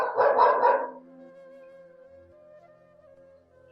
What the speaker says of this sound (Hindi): कुत्ते की बहुत आवाज आ रही